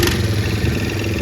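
A 2005 Guangzhou Panyu Huanan Chinese ATV engine idles just after a jump start, running steady and close with a low rhythmic chug and light mechanical clatter, no voices over it.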